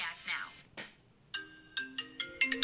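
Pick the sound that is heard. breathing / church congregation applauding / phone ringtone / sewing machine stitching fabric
phone ringtone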